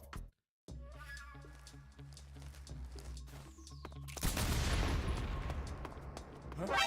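Video game gunfire: a scattering of sharp shots over a quiet background with footstep-like taps, then a louder, denser burst of fire and noise toward the end.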